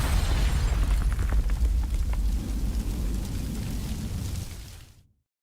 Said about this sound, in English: a bomb